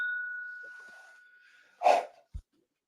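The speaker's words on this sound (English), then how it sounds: "Did he just like tap a glass like he was banging a gong?" A glass tapped like a gong during a live whiskey-tasting bracket round: a single bright ringing tone that sustains and slowly fades, followed by a short burst of breathy noise and a soft low thump.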